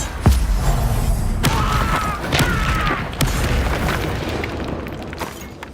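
Fiery spell explosions in a Hogwarts Legacy wizard duel: a heavy boom near the start and further sharp blasts and bursts follow in a noisy, rumbling battle mix, with no talk.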